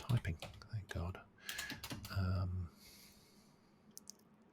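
Typing on a computer keyboard comes in quick, close clicks mixed with a speaking voice, then thins to a few faint taps near the end.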